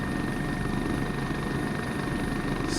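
A helicopter flies in a flight simulator game, its rotor and engine giving a dense, constant, loud drone with no breaks throughout.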